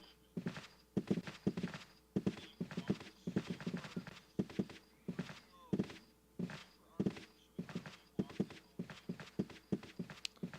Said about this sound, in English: The footsteps.